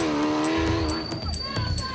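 A Ford Racing Ranger production rally truck pulls away on slippery ground, its engine revving loudly with a rising whine and tyre noise, close and continuous.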